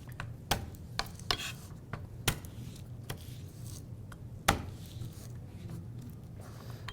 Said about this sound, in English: Fastest way to do garlic, lay it flat, put your knife on top, and smash it gently